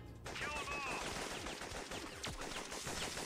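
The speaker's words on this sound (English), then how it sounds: "Oh, they're shooting at the CDC agents." Rapid video game gunfire aimed at CDC agents, continuous crackling shots layered with dense background game noise throughout, with no speech.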